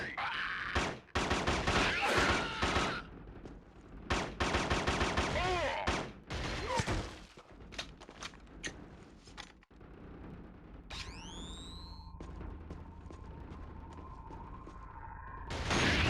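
Rapid bursts of gunfire in a first-person shooter video game, loud repeated volleys and shots in clusters, followed by quieter mechanical and whistling effects and another burst at the end.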